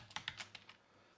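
A few quick taps on a computer keyboard key, five or six light, close clicks in an uneven rhythm that fade out, heard in a quiet room with no talking.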